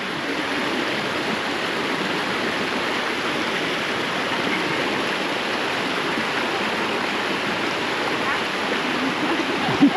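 Steady rushing water from a waterfall and stream fills the scene, a loud continuous broadband roar close by, with no break across the whole stretch.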